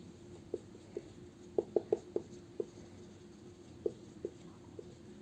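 Chalk tapping and scraping on a board while composite numbers are written out, a series of short, sharp strokes with brief pauses between them, faint and close, and no voices.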